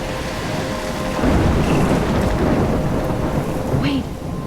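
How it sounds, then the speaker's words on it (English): Thunderstorm with heavy rain in the video game Life is Strange: a steady wash of rainfall with a loud rolling thunder surge building after the first second, continuing close and dense to the end. "I'm trapped in a storm?"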